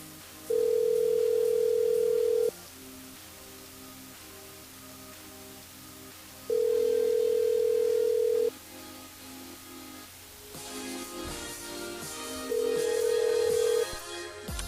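A telephone line rings during a call-in on a radio station's switchboard, with three long steady tone bursts separated by pauses and faint background noise between them.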